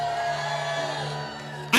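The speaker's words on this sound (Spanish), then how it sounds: "Un grito de júbilo fuerte." A church congregation lets out a loud, joyful group shout, a swelling mass of voices that holds strongly, eases off, then bursts into a sharp renewed cry at the very end.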